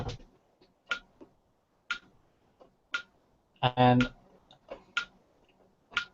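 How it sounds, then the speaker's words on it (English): A clock ticking softly in a quiet room, regular evenly spaced ticks about once a second, with one brief spoken word in the middle. "can you hear the ticking in the background"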